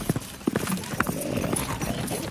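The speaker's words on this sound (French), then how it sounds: "Je lance mon cheval au galop en direction de la ferme Le Mot." A horse galloping in a medieval scene set in 1386, hooves striking in quick irregular clip-clops, close and fairly loud, with a brief whinny-like accent amid the beats.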